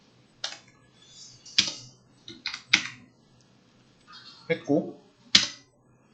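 Computer keyboard typing with separate clacky keystrokes and a firmer Enter press, close and fairly quiet, with someone speaking briefly in between.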